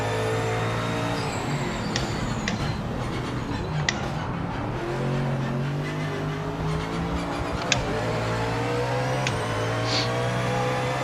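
A race car in the Project Motor Racing video game, driven for the first time, holds a loud, steady engine drone with rising and falling revs across the whole stretch and no talk over it.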